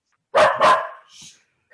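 A dog gives two quick, loud barks up close, followed by a softer trailing yip.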